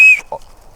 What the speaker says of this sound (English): emergency scenario, you got the whistle there